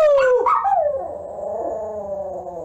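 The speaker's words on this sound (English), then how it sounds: "Give me a howl and say Happy New Year's to everybody." Luna, a pet dog, gives a drawn-out howl close to the microphone, starting high, sliding lower and trailing off in a long wavering tone, with no talking over it.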